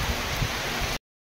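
Heavy monsoon rain pours down steadily in a dense, even hiss with low rumbling patter, loud and close, cutting off abruptly after about a second.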